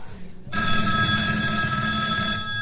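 A telephone bell starts ringing abruptly and keeps up a loud, steady, bright trill throughout, close and continuous over a low room rumble.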